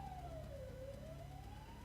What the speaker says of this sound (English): Police car going past, you may well hear that.